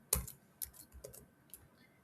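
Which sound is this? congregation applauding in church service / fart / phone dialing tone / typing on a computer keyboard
typing on a computer keyboard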